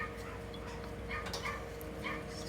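Puppies yip, whimper and bark in a workshop where an 1887 Singer VS-2 sewing machine is being restored. Several short high cries repeat close by over a steady mechanical hum.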